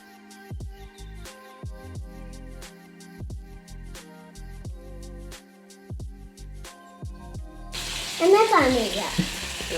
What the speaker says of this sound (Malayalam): അത് ഫ്രൈ ചെയ്തെടുക്കാനുള്ള എണ്ണ ഒഴിച്ചു കൊടുക്കാം.